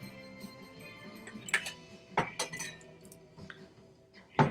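Classic Mai Tai glass handled at close range, giving a few sharp glassy clinks and taps with soft handling noise between them, spaced irregularly with no talking.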